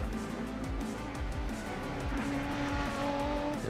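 Renault race car in Gran Turismo Sport taking the last corner, a loud engine whining through shifting pitches with tire squeal, alone and near.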